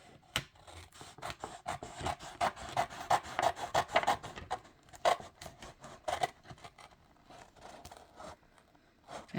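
Scissors snip steadily across a sheet of vinyl for a keepsake box, a close run of crisp rhythmic cuts and rasps with no talking.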